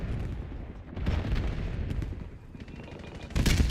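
Rapid SMG fire in Black Ops 7 multiplayer, loud and close, sustained bursts with short gaps and a final sharp burst at the end, no talk.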